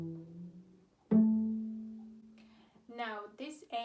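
A cello string is plucked pizzicato during a shift from E to F sharp toward a fourth-finger A. One clear, ringing pluck rises out of faint lower notes and decays over a second or so before a voice starts talking.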